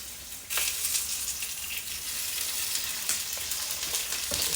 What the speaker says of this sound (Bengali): রসুনগুলো আগে একটু ভালো করে ভাজতে হবে